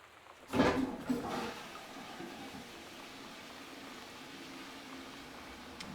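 A toilet flushing in the exploration game Gone Home: a sudden rushing gush of water that quickly fades into a steady, quieter hiss of refilling water.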